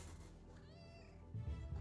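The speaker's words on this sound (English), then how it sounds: "Cat's joining in now" A house cat gives a short, faint meow, a rising-falling wavering cry over a low hum from the room, with a muffled bump near the end.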